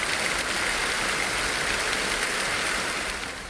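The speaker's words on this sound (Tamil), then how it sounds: "இடி மின்னலோடு கூடிய கனமழை பெய்தது" Heavy rain pours steadily over villages such as Kuthukkal Valasai, Ilathur and Panpozhi in a thunderstorm. It makes a dense, even hiss at constant loudness, with no thunderclap standing out.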